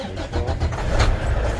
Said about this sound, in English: Now I'm gonna do a safe start. Safe start consists of neutral, brakes applied, okay? Start truck